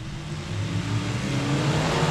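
Hobby stock race cars at 67 Speedway in Texarkana accelerating, a loud steady engine roar that builds slightly over the short stretch.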